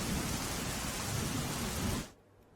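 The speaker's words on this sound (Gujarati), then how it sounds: "પોરબંદરમાં અવિરત વરસાદ વરસી રહ્યો છે" Heavy rain pours down in a dense, continuous roar in Porbandar, Gujarat, amid flooding, then cuts off abruptly near the end, leaving near silence.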